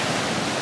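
Pacific Ocean surf makes a steady, broad wash of rushing water, loud and close, with no voices over it.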